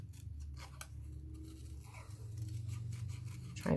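Scissors snip around a paper card piece in a run of close, quick crisp cuts, with short pauses between bursts, ending in a louder rustle.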